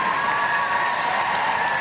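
Sustained applause from an evening crowd at a dog show during toy group judging, a dense, even patter of clapping that continues without pause.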